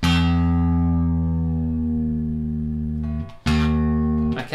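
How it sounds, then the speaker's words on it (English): A single low E string on an acoustic or electric guitar rings out steadily and close, its pitch sliding lower as the tuning key is turned, then is plucked again twice near the end. "I'm going to turn my low E string tuning key, which is the first one here, and I'm going to make it lower in pitch"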